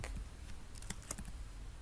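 Rapid keystrokes on a computer keyboard while entering a scientific-notation value, a close, steady run of light clicks with a few sharper taps, no voices.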